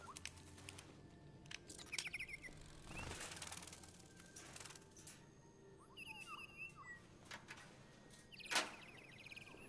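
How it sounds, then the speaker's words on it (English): Cybernetic birds in the video game Detroit: Become Human chirp and flutter in short, bright bursts with wing-flap sounds, scattered across a quiet background, fairly faint, with one sharper chirp near the end. "Oh, they're like cybernetic birds."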